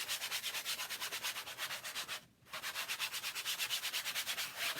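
Light sanding of a canvas by hand, a long run of fast, regular scratchy strokes heard close up, broken by one brief pause before the rhythm resumes.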